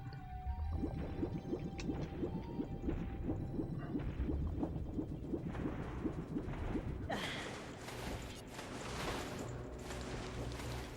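Water rising in the Water Temple of Ocarina of Time on N64 hardware, heard as a steady watery filling and rushing sound that carries on for several seconds and grows brighter and louder partway through.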